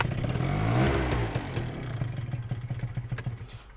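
A warm Peugeot Kisbee 2015 two-stroke scooter engine revs up and holds high, then settles into a fast, pulsing idle with clattery putters, close and alone.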